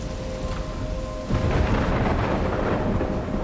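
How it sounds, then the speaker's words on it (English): Thunderstorm in the game Life is Strange, a deep rolling rumble of thunder over continuous rain, swelling louder midway and sustained without talk. "I'm trapped in a storm."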